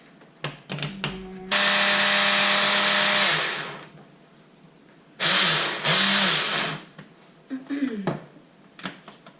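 A blender whirs loudly as it mixes homemade coffee creamer, running in one long burst and then two shorter pulses, with clicks and handling noises between the runs.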